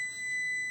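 A kitchen timer for a 60-minute cinnamon roll dough rise rings out in a steady, continuous electronic tone, loud and close, holding without a break for the whole moment.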